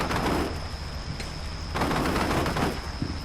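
Sustained gunfire from the video game Combat Mission: Shock Force 2, with British forces coming under heavy fire: dense overlapping rifle and machine-gun bursts crackling continuously at steady loudness throughout.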